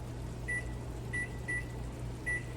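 A kitchen timer beeps four times in short tones while fish cooks for a Mediterranean fish and couscous dish, the beeps standing out over a steady low hum from the stove or appliance.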